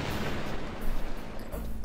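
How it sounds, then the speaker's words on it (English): A stun grenade detonates in the Metal Gear Solid video game, a loud, dense burst of blast noise that rolls on for nearly two seconds with a thick low-end rumble and no voices over it. "Kaboom! Stun grenades."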